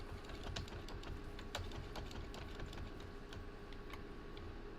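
Rapid computer keyboard typing during a Risk of Rain 2 game session, with irregular close key clicks and taps over a low steady background hum, no voices.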